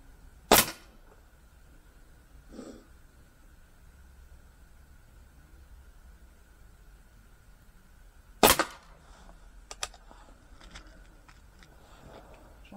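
A Stoeger XM1-Sport air rifle fires pellets at a toaster: two sharp, isolated cracks about eight seconds apart, each followed by a faint metallic impact, with a few small ticks in a quiet room between shots.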